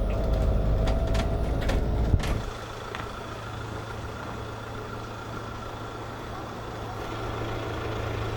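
A heavy vehicle with a rumbling engine rolls slowly around a campground on a road trip through Italy and France, loud at first, then it eases off to a steady lower idle hum after a brief hiss.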